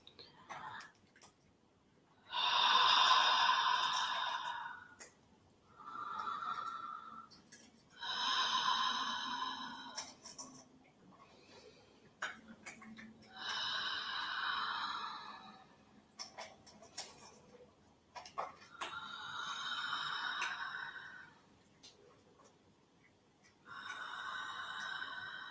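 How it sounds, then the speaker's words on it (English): Five slow, deep breaths during a calming exercise, each a long soft airy inhale or exhale, close and quiet, separated by brief pauses with no talking. "if you'd like to take 5 deep breaths with me"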